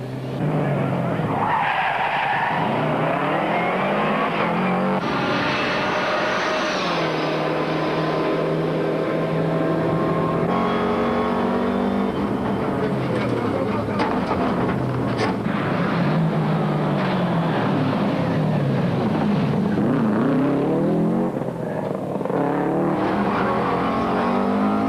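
Rally cars on a tight stage, loud engines revving and swooping up and down through gears with tyres skidding, continuous and close throughout, with a faint voice briefly underneath.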